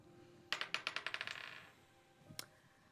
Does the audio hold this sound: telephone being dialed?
no